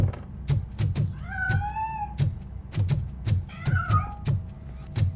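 A cat meows twice in Robocop: Rogue City, drawn-out rising-and-falling cries set over a steady rhythm of dull footsteps and soft thuds, close and fairly clear.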